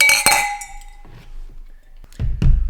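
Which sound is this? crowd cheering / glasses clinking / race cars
glasses clinking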